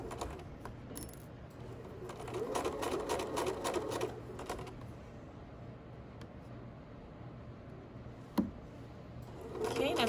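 A sewing machine stitches a standard seam in fabric, including a brief reverse stitch, running steadily in a quiet room with a soft clunk partway through and faint speech in the background.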